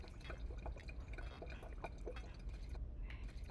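Water trickles and drips steadily as a character fills up in the video game V.A.U.L.T Protocol, a soft continuous pouring close by with no talk.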